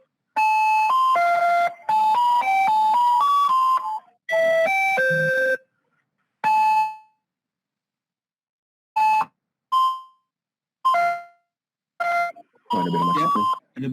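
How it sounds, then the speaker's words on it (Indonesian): A school entry bell plays a chiming electronic melody of tones in several bursts, with pauses between phrases, loud and clear with no talk over it. "Oh, ada bel masuk nih."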